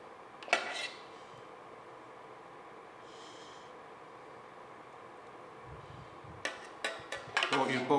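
Clinking of dishes and cutlery while blanquette de veau is plated into a plate, with a sharp clatter near the start and a cluster of louder knocks and scrapes toward the end, close and fairly quiet between.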